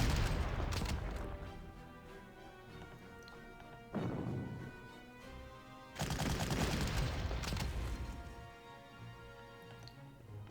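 Gunfire in the wargame Panzer Corps comes as a few separate booming volleys with crackling decays, spaced several seconds apart over a quiet background.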